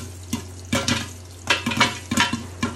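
Kernels of popcorn popping inside a covered pot, a scattered run of soft, close pops and rattles against the lid over steady cooking sizzle, with no voices.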